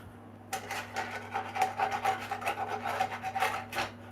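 A metal utensil scrapes repeatedly across the bottom of a pan, working loose browned ground beef in quick rasping strokes, close and fairly quiet, with no one talking.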